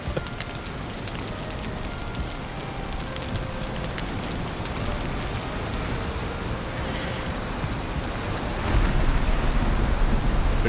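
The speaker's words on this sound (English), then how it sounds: "Big storm." A video game thunderstorm fills the scene with a dense, steady wash of heavy rain and low rumbling, growing slightly louder near the end.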